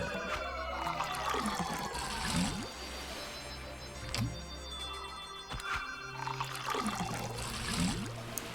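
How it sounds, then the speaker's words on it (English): Juice pouring into a bottle in the video game Pikmin 3 Deluxe, repeated watery glugging and trickling bursts over a low musical background, moderately quiet, with no speech. "It's so good to watch all that juice just pour into that bottle"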